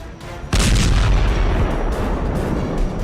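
A Storm Shadow missile strikes a Russian naval base with a sudden loud, close explosion, followed by a sustained heavy rumbling roar that slowly eases.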